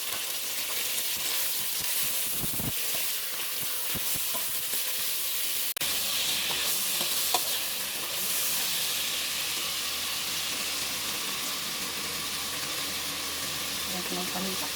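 Chicken pieces sizzle and fry steadily in a hot pan for pinyahang manok, a continuous loud hiss with occasional clatter and stirring.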